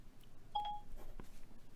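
A phone gives a short pair of electronic beeps, faint and brief, under quiet room tone.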